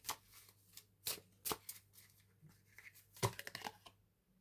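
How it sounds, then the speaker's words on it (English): Tarot cards are handled and drawn from a deck, giving a series of crisp close snaps and riffling shuffles with brief rustling between them. "I'm going to pull a couple cards here."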